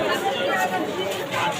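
Dense crowd chatter outside a temple during a Shiva wedding festival, a steady close babble of many voices with no single speaker standing out.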